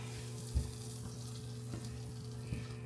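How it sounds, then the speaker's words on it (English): Butter sizzles and fries quietly in a pan under a low, steady crackle, with a few soft knocks of a utensil or pan and no talking. "Okay, so I have melted the butter."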